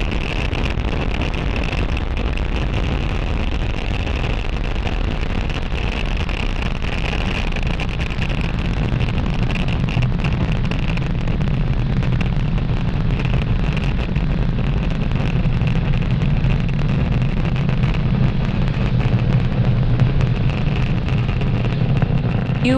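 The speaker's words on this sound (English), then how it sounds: "You are watching Falcon 9 as it accelerates our Starlink satellites into orbit" A SpaceX Falcon 9 climbs after liftoff from Florida carrying 54 Starlink satellites, its engines giving a steady, loud, broadband roar that holds without a break for over twenty seconds, with no talk.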